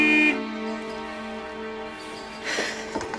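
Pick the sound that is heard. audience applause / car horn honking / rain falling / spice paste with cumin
car horn honking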